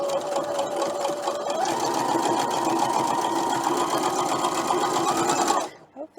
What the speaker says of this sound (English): I'm sewing at an angle, so that's an adjustment